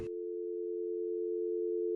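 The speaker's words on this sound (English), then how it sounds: "the phone would disconnect for a final time" Steady telephone dial tone right after a call disconnects, a single unbroken hum holding at constant loudness for about two seconds after a brief click.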